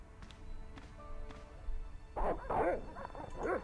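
Dogs bark and yip in the Broken Sword adventure game, a few quiet sounds early on and then a cluster of sharp barks toward the end, fairly faint and clear of speech.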